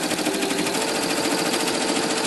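An embroidery machine stitches a design at high speed, giving a steady, loud, fast-repeating mechanical whir and clatter that runs unbroken throughout, close by and with no voices.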